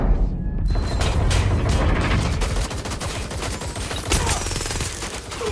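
Dense gunfire in the video game Watch Dogs: Legion, rapid bursts and booms layered into a loud, continuous fusillade with mechanical clatter.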